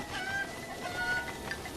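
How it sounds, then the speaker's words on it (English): Several chickens cluck in Zelda: Breath of the Wild, with soft scattered bird calls over a dense, steady hiss of game ambience and no talk. "Chickens."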